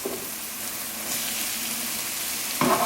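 Chopped mushrooms fry in a pan with a steady close sizzle that swells slightly midway and ends with a brief clatter, no voices present.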